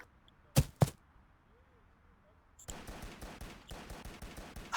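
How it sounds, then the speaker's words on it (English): Gunfire in the Virtual Warfighter VR shooter: two sharp loud shots, a pause, then a rapid burst of repeated shots in quick rhythm. "I can hear you. Shooting the gun."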